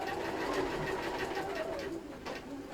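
Sewing machine stitching a fabric cutlery holder, a quick continuous whirring run of stitches, fairly quiet and close, with some background chatter.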